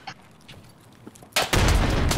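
A loud explosion bursts in the shooter game Escape from Tarkov after a quiet stretch, its sustained roar filling the second half of the moment; no talk.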